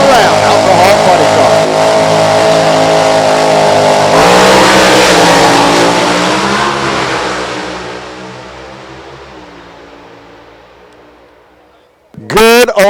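An alcohol funny car roars down the drag strip in a final-round run, a loud sustained engine howl that fades into the distance, then a sharp close burst of revving at the end.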